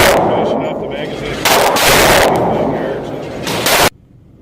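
A Smith & Wesson M&P 15 rifle fires several loud sharp shots in quick succession outdoors at a range, each crack trailing a rolling echo, before the firing stops abruptly.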